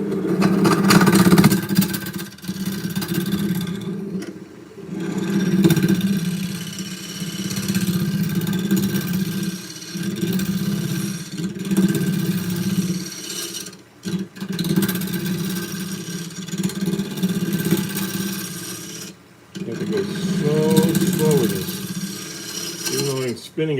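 A wood lathe spins a bowl blank at over 1,000 RPM, giving a continuous droning hum with rough, wavering texture and brief dips, under occasional low talk.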